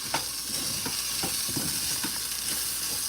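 Rice fries in a pan over a lowered flame, with a continuous sizzle broken by repeated scraping strokes as it is stirred.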